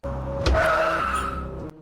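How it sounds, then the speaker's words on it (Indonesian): A car skids to a sudden stop in a film scene, its tires squealing loudly as it cuts off a narrow alley to block the way. A steady engine and screech fill the clip alone, then cut off abruptly. "tiba-tiba mobil Kapten Lin menghadang mereka dari depan"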